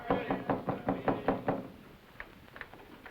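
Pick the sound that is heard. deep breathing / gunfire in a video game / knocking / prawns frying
knocking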